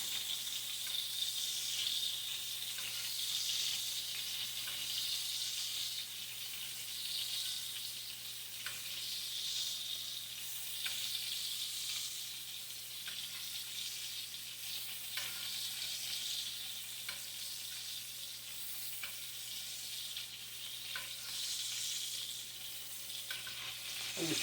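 A battered hamburger steak fries Arkansas style in a hot pan, giving a steady, close, bright sizzle with soft crackles that runs unbroken throughout, with no voices.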